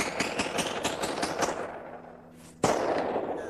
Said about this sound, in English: Dylan Klebold and Eric Harris go to the forest with friends for firing practice